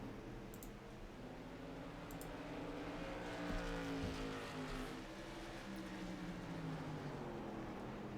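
Several race cars circle the flat Stafford oval in a winter league heat race, engines droning steadily in a continuous mid-distance roar that swells slightly as the field runs single file into the first turn.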